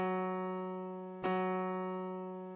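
A sustained musical F sharp tone for a hearing test, struck twice with a brief click between strikes, ringing steadily and clearly with no voices.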